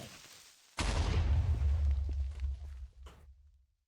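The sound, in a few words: explosion in Minecraft (ATM9 modpack) video game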